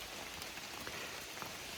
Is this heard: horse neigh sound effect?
no